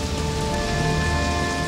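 Steady, dense rain patters down without a break on the surfaces of a plague-era town, a continuous close hiss of drops with no voices.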